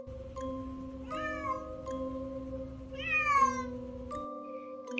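A black cat gives tense, drawn-out cries, several strained meows rising and wavering over a low steady drone, fairly faint and close, with short clicks between.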